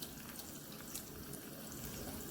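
Red clam sauce with clam juice bubbles softly in a pan, a faint, steady simmering fizz with no voices over it.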